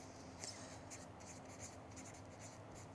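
A pen scratches out words on small plastic plant labels while an Alocasia is being repotted, a close, quiet run of short scribbling strokes with brief pauses between them and no speech.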